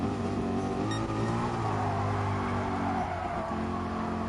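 A race car engine in GT Sport drones steadily at high revs with a loud, buzzing harmonic tone, shifting pitch as it upshifts through the gears, continuous and close without any voices.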